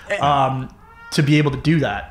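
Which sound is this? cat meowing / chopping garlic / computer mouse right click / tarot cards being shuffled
cat meowing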